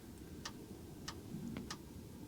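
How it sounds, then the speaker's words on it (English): Faint, evenly spaced ticking of a diesel heater running inside a van parked in snowy winter cold, four light clicks over a steady low outdoor background with no talk. "you can hear a ticking coming from the van, and that would be my diesel heater running on the inside"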